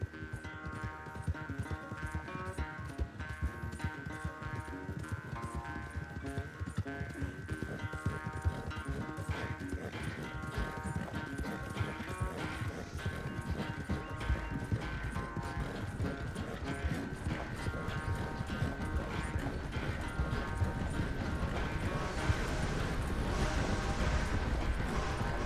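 Horse hooves gallop in a steady, continuous clip-clop rhythm while riding in Red Dead Redemption 2, loud and close, with game music or ambience layered underneath throughout.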